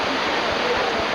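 Needle Falls, a 5.5-foot vertical waterfall on the French Broad River, roars with a dense, unbroken rush of whitewater, loud and close throughout.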